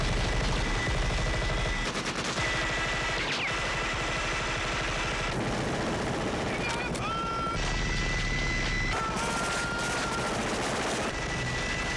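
Prop machine gun firing on the set of the film Predator, a long sustained rattle of rapid shots mixed with a roaring mechanical whine, loud and continuous, with a voice talking over it.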